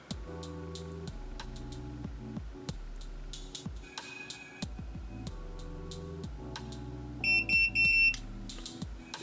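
An automatic hair curler beeps as it finishes winding a strand of hair: a bright electronic tone sounds near the end, rising above steady background music with clicks and ticks.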